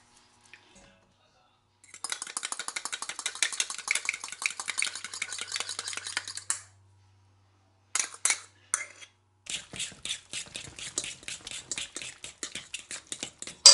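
A spoon or whisk stirs sweet potato casserole mixture in a bowl after an egg goes in, producing rapid rhythmic scraping and clinking in bursts separated by short pauses, close and fairly quiet.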